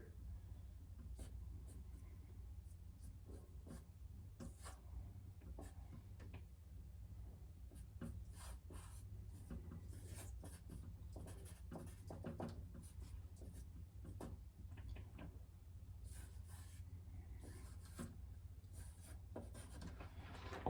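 Pencil scratching lines on paper, a steady soft rasp of repeated short strokes going on throughout, quiet and close with no talking.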